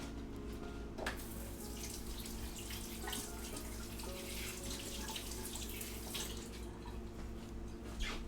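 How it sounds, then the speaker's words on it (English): Water running from a kitchen tap while hands are rinsed, a steady continuous splashing stream at close range with brief knocks over it. "Let me rinse my hands and try mashing it a little more."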